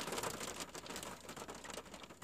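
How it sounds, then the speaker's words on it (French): Hail pelting down outside during a sudden March shower, a dense, steady crackle of many small impacts patters on the surface throughout with no voices. "Oh bah il grêle"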